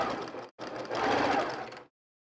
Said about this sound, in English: Doesn't take long at all to sew this quilt up